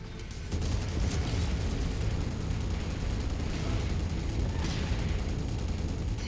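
Heavy mech weapons fire and explosions from the video game MechWarrior 5: Mercenaries roar continuously and loudly, a dense, booming barrage of gunfire and blasts with no pauses and no talk.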